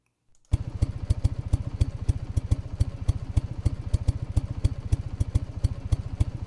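A looped engine idle plays after a brief silence, a steady close, even, throbbing rumble with regular clattering pulses that repeat without change until the end.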